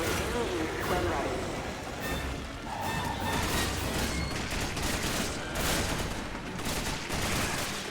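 Sustained bursts of gunfire and explosions from a shooter video game with a flamethrower tank, loud and dense, crackling in repeated volleys across the whole stretch, with voices mixed in.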